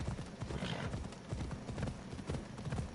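Horse hooves clip-clop steadily in Assassin's Creed Odyssey, a dense rhythmic trot running through the whole stretch at close range, with some speech-like sound mixed in.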